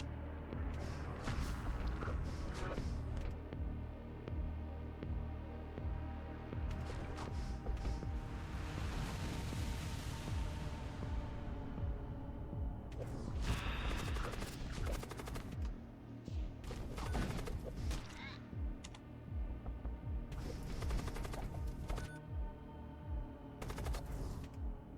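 Spaceship weapons fire in the video game Void War, with dense bursts of rapid gunfire and heavy booms layered continuously over roughly twenty-five seconds. The volleys come in waves, loud and close, with sharp crackling impacts between them.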